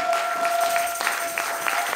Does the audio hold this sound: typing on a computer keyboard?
no